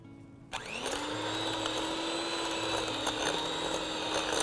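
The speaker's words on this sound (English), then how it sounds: "I'm going to start my mixer" An electric mixer starts up after a brief quiet moment and runs at a steady, loud whir while it creams half a cup of real butter with a cup of sugar in a bowl.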